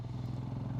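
Motorbike engines labour uphill on a rocky high-altitude mountain road near Umling La, a brief, steady low throbbing thrum heard close.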